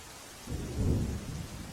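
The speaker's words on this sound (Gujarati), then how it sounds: "સાર્વત્રિક વરસાદ અને જિલ્લામાં મેઘરાજાની ધમાકેદાર બેટિંગ બાદ આ દ્રશ્યો સામે આવ્યા છે" During heavy monsoon rain in Patan district, Gujarat, a deep roll of thunder swells and fades over a steady rain hiss in a short burst.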